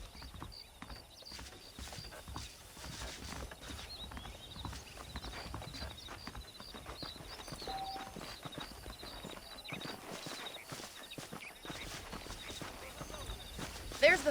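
Horse hooves clip-clop at a steady walking pace in the Western video game Red Dead Redemption, fairly close and continuous, with a voice talking over the hoofbeats throughout.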